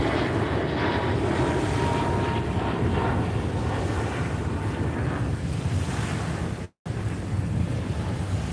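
An airplane passes overhead as a broad, continuous roar that stays steady and loud throughout, broken by a brief dropout near the end.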